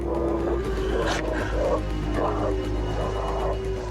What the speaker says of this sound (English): I could hear a bunch of wolves.